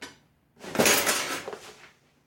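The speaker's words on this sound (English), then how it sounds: "Gonna add some more kosher salt, and we'll give it a mix." A utensil scrapes and clinks against a bowl while sweet potato mash is stirred with kosher salt, one brief burst of clattering mixing after a short knock.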